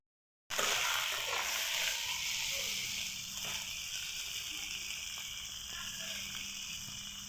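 Tomatoes tipped into hot oil for a rohu fish curry set off a sudden loud sizzle that holds steady and slowly softens, with no talk.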